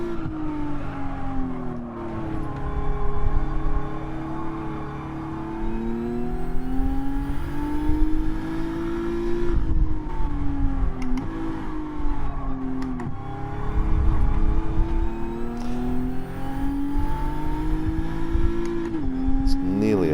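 A race car in a video game at Fuji accelerating and shifting up through the gears, a loud sustained engine whine rising in pitch, dropping at each change, then climbing again without a break.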